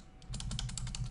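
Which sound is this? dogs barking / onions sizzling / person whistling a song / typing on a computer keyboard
typing on a computer keyboard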